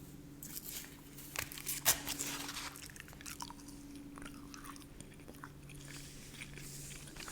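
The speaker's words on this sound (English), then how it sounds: "we're just going to do a little magazine review from Vanity Fair while I chew some gum" Gum chewing close up, moist smacking and crackling bites in an uneven rhythm, quiet and intimate with occasional louder crunches and faint crinkles.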